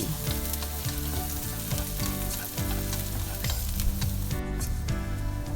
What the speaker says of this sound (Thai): พอน้ำมันเริ่มร้อนก็นำกระเทียมสับ ขิงสับแล้วก็ต้นหอมของเราลงไปได้เลยจ้า ผัดให้หอมฉุยเลย